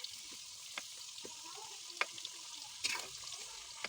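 Sweet potato pieces for kamote cue frying in hot oil, a soft steady sizzle with a few faint clinks and stirring knocks, quiet and without speech.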